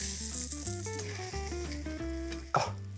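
Skin-side-down fish sizzles in a hot frying pan, a soft constant hiss partly buried under louder melodic music.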